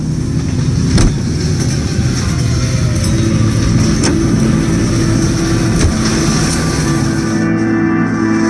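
A car engine drones steadily while driving in L.A. Noire, a loud constant hum with occasional faint clicks and no talking.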